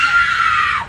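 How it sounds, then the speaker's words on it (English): A woman at a drive-thru lets out one sustained, piercing scream that stays loud and shrill for nearly a second before cutting off. "the scream that she let out was like a banshee scream"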